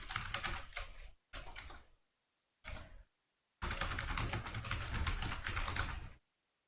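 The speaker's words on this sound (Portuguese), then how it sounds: "eu vi que você ia digitar uma coisa" Rapid keystrokes clatter on a computer keyboard in several dense bursts separated by brief pauses, close and fairly loud, with the longest run at the end and no speech.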